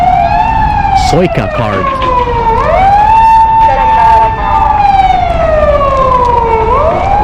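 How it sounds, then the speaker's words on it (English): A police siren wails on a street in Hiroshima, Japan, its pitch rising and falling in long sweeps throughout, loud and close over traffic noise, while someone talks over it. "There is noise going on right here. Not sure what that is. It's the police."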